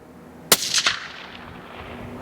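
A single sharp suppressed gunshot, one of a suppressor comparison between the Whisper Pickle 30, Omega 300 and Hybrid 46M, cracks close and loud, then rings off in a short echoing tail against quiet outdoor background.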